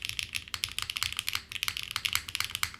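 Quick, steady typing on a Graystudio FRL 1800 mechanical keyboard with an FR4 plate, a close, crisp stream of clacky keystrokes with no pauses.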